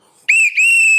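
A single bright whistle blast kicks in after a moment of quiet and holds steady and loud for nearly a second, with a brief dip partway through before continuing.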